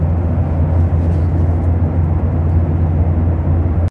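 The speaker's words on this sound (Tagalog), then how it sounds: "sobrang lakas ng tunog ng eroplano dahil malapit nga pala kami sa pakpak" Airplane engines roar loudly during takeoff, heard from a seat close to the wing: a constant, heavy, deep rumble with broadband rushing noise that holds steady throughout, with no voices.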